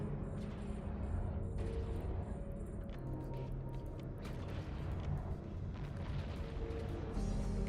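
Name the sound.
gunfire while shooting enemies in a video game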